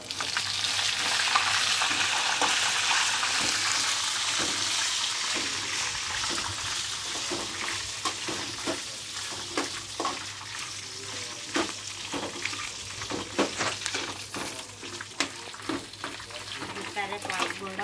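Curry leaves hit hot oil for karela fry, sending up a loud sizzle that settles into steady crackling frying with stirring noises close by.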